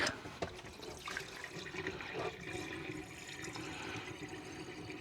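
RV antifreeze in a Roadtrek Zion campervan pouring down the sink drain, a steady rushing, gurgling flow of liquid close by, continuous for several seconds with no talking.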